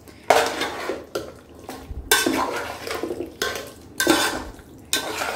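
A cup of yogurt is stirred into a chicken biryani marinade in a bowl, giving repeated wet slaps and utensil clinks against the bowl in uneven bursts, close and fairly loud, with no talking.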